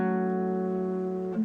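A single guitar strum on the D string rings out steadily, then a hammer-on from the 2nd to the 4th fret shifts the pitch just before the end, quiet and close.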